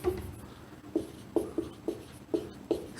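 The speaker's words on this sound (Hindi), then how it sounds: "मैं ये वाला डेरिवेटिव नीचे लिख दे रहा हूँ" Hand-writing a derivative: a pen or chalk taps and scratches in short strokes, about seven distinct close marks in an irregular rhythm against quiet room tone.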